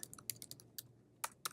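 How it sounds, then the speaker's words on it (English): Crisp, close clicks from a computer keyboard, typed in scattered bursts with short pauses, a few keystrokes landing noticeably louder than the rest. "Now if I was to start typing"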